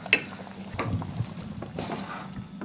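Cocido with morcilla heating in a pot gives soft bubbling and faint liquid movement, with a brief clink at the start and low steady simmering.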